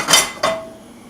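Metal pan set down for cooking sausage in butter, two quick clanks close together, the second leaving a short ringing tone that fades.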